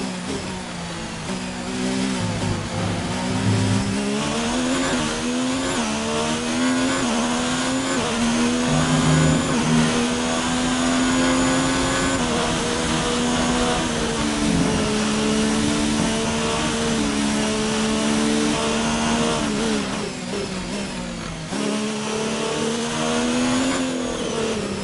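A Formula 1 car's engine in the racing game F1 2019, slightly down on power and showing minor wear, drones loudly and continuously, with its pitch rising and falling as the car accelerates and shifts gear.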